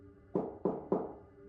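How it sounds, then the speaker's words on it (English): Three firm, evenly spaced knocks on a wooden cabin door by a man, close and fairly loud, each a dull thud with a short decay, in a quiet setting with no voices. "The man knocked again."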